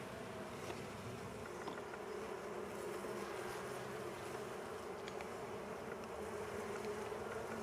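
A secondary swarm of honey bees from a test hive kept in a cellar makes a dense, continuous buzzing drone that stays steady and moderately faint throughout.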